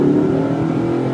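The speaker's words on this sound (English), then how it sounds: "Tire spin there." A lifted 2004 Nissan Titan 4x4 LE engine revving loud and steady with the tires spinning, a sustained close roar with no voices.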